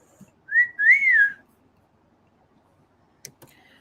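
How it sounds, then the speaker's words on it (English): A person whistles a short rising and falling tune of about a second, close and clear in a quiet room, followed by silence and a couple of faint clicks. "I just whistled and she probably thought it was my sister."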